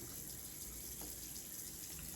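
Warm tap water runs gently from a kitchen faucet for hand washing, a soft, faint, steady stream with no voices.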